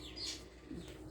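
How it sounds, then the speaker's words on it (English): A pet parrot and other birds calling indoors, a couple of faint short chirps and a soft coo in a quiet room. "if you hear the birds, that's because my parrot is on my shoulder"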